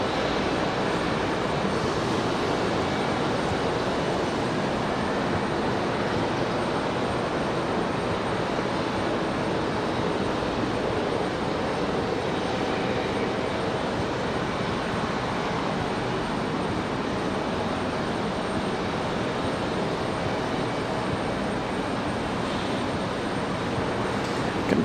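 A jet or propeller airliner climbs away from runway 23 right at Raleigh-Durham International after a go-around, its engine roar a steady, loud, broadband rumble that holds without pause across the whole stretch, with no talk over it.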